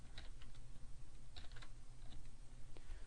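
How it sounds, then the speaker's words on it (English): Fingers tap out irregular clicks on a computer keyboard, a close run of light keystrokes with short pauses over a low steady hum. "all we need to do is simply type in our next element"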